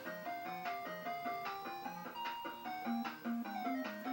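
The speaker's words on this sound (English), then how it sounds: "all the games we had back in the day where, like, you die, and there was such happy music" A bright, cheerful chiptune-style jingle of bouncy repeated notes plays on as death music in an old Nintendo game, clear and fairly quiet with no voices.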